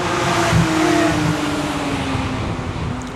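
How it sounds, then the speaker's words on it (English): Porsche 911s passing on the Nürburgring during a tourist session, a steady engine drone with a brief swell as they go by, moderately near and continuous with no talk. "A couple of 911s go past."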